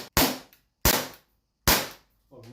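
Three sharp airsoft gun shots, evenly spaced and close, each a crisp crack with a short fading tail, followed by a brief voice at the end.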